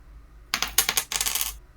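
Tabletop gaming dice drop and clatter across a table, a sudden burst of hard rattling clicks that tumble and settle over about a second.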